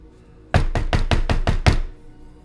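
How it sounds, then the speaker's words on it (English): Loud knocking on a door in a quiet snowy scene: seven sharp, evenly spaced raps in quick succession, close and alone, ending in silence. "the quiet stillness of the scene as the music ends is broken by a loud knocking sound on your door"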